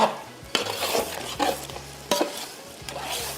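A spoon scrapes and stirs rice for Sindhi yakhni pulao in a pot, with several distinct clanking strokes against the metal over a soft sizzle, close and fairly loud with no talking.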